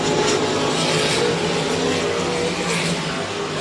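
RaceSaver sprint cars lapping Crawford County Speedway, a loud, steady engine roar filling the air with slight swells as cars pass, heard from the stands without any voice over it.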